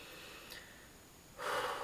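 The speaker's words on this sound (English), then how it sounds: "Take a nice big breath." One deep, audible breath is drawn in near the microphone, a short airy inhale, preceded by a faint sniff and otherwise quiet.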